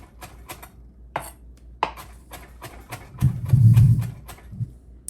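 Knife chopping fresh parsley on a board in a home kitchen: scattered sharp taps, then a louder thudding clatter of utensils near the end. No one speaks.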